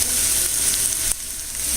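A shallot softening in a hot pan gives a loud, steady close sizzle, a continuous bright hiss that briefly dips partway through, with no talk.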